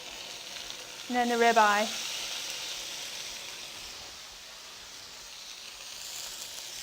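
Two 10-ounce steaks, a sirloin and a ribeye, hit a hot pan and sizzle loudly in a bright steady fry. The sizzle then settles into a quieter continuous hiss, with a brief spoken remark near the start.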